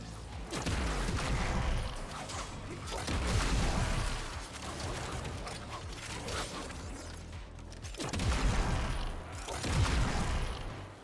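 Enemies burst apart from Corrosive damage in the Warframe video game, a series of heavy booming blasts that swell and fade in waves over a steady, busy combat background.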